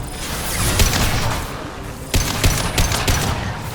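Rapid bursts of gunfire in a Mass Effect 2 firefight, dense overlapping shots and mechanical clatter, loud and close, continuing in clusters with a brief break midway and no talking.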